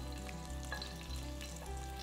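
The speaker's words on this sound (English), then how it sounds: "the jalapeno pepper sizzling quite a bit" Jalapeno peppers sizzle and crackle in hot oil, a continuous frying hiss with small pops, close and steady with no talking.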